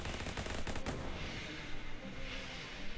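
A rapid burst of gunfire from the video game Shadows Over Loathing: a fast string of shots for about a second, then a long echoing decay into a fading rumble. Fairly quiet overall, with no voices.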